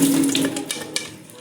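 Water running steadily from a faucet while a wok is washed at a kitchen sink, a close, continuous splashing hiss that lasts the whole moment, with a couple of brief clinks.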